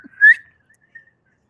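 A person whistles in imitation of a call used to summon, giving one short rising whistle that is loud and close, followed by a few faint, brief tonal traces.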